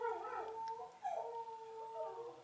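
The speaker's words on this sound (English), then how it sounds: "My dog doesn't like that, as you can hear." A pet dog howls in a home, a long wavering tone that dips and rises again over a couple of seconds, moderately near with no talking.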